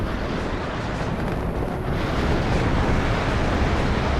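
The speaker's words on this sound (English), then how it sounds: "there's my artillery landing, and as you can see, the damage is very limited" Artillery shells landing in the WARNO strategy video game, a dense sustained roar of distant explosions blending into one continuous rumbling wash with no clear separate blasts.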